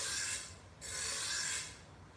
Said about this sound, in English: he's got a grinder, he's a landscaper, he's sharpening his lawnmower blades